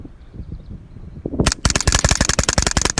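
A .22LR AR-style rimfire rifle fitted with a Fostech Echo trigger and a 25-round magazine fires a fast, steady string of sharp cracks. The shots begin with a few spaced reports and then run into a rapid unbroken burst close by.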